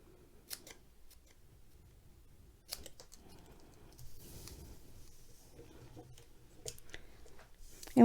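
Scissors notch the end of a small paper banner for a stamped notecard craft, a few close, crisp snips spread across a quiet stretch.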